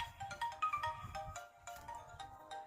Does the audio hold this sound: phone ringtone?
yes